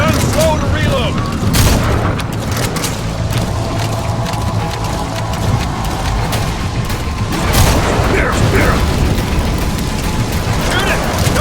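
Gunfire and booming blasts in Metal Gear Solid V: The Phantom Pain come in loud, irregular bursts mixed with mechanical clatter, with shouted voices over the combat.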